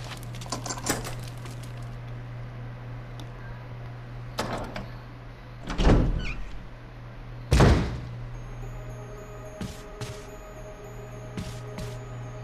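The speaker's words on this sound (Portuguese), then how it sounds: "Vamos ver as portas, faltou abrir então." Doors open in the Resident Evil 1 remake mansion, heard as a few sharp heavy thunks and slams over a steady low game hum, with no voices.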